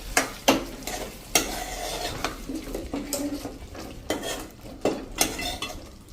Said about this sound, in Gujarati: તો હવે લાસ્ટમાં આપણે થોડી એવી ધાણા ભાજી નાખી દેશું અને એને મિક્સ કરી અને આપણે ગેસ બંધ કરી દેશું